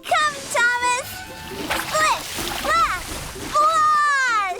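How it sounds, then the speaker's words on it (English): Thomas the Tank Engine, a cartoon engine, splashes through muddy water in a brief splatter, heard under lively voices talking throughout. "Muddy water splattered everywhere."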